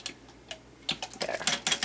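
A manual impulse electric sealer presses shut a plastic bag of pickles, giving a quick run of close, sharp clicks and crinkly plastic handling, sparse at first and then denser.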